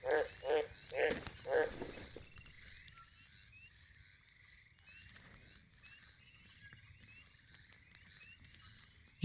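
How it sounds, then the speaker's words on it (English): Cane toad croaking in the jungle survival game Green Hell, a few loud rhythmic croaks close by at the start, then fading into a quieter backdrop of insect and bird calls. "He is a cane toad."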